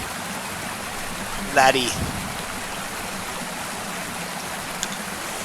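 A waterfall in the Fishing Planet game at Falcon Lake, Oregon, roars with a steady broadband wash throughout, and someone briefly speaks over it.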